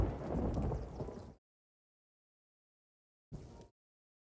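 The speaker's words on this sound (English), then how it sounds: "it's thundering on the island. Starting to rain too." Thunder rumbles over an island in a video game as rain starts, a loud rolling burst followed by silence and then a shorter, fainter rumble.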